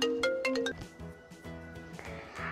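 A telephone rings with a melodic ringtone, a quick run of bright chiming notes followed by a softer sustained tune, faint and indoors.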